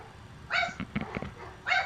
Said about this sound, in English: I don't know why I got all these dogs barking, but they're barking at something.